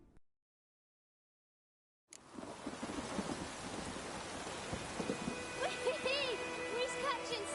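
A storm in the Witcher 3 video game, with steady heavy rain and rumbling thunder that starts suddenly after a short silence. Occasional higher calls and chimes sound faintly over the constant wash of rain.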